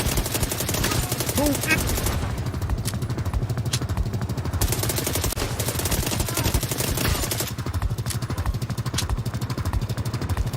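Rapid automatic gunfire and scattered shots from a shooter video game run loud and nearly continuous, with a brief shouted voice over the barrage.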